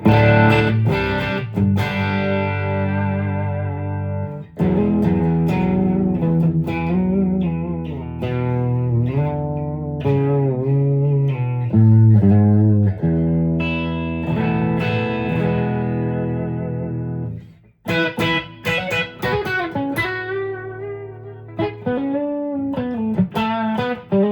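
Electric guitar played through a Nano Cortex amp preset, straight amp with a touch of reverb and no compressor, ringing chords and melodic lines with sustained tones, a short pause near the end before playing resumes, loud and alone.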